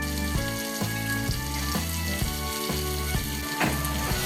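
Drained, soaked moong dal fries in a pan of oil with garlic, tomato, salt, turmeric and red chili, giving a steady close sizzle beneath background music.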